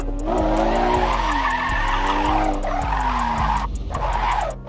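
A car drifts and skids across grass, its engine droning and sliding in pitch under a steady rough scrubbing roar, with regular ticking clicks and a brief drop in the noise near the end.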